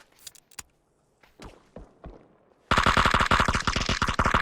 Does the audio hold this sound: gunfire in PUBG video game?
yes